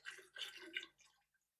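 Glaze pours out of a slip-cast ceramic planter in a few gurgling, splashy bursts that trail off into a last small drip, close and fairly quiet.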